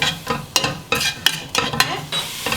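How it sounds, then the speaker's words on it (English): Onions and garlic frying in a hot pot, a steady sizzle broken by about half a dozen sharp scrapes and stirring bursts from a utensil, close and fairly loud with no talking. "I'm going to add the onions and the garlic. Fry that for about 5 minutes"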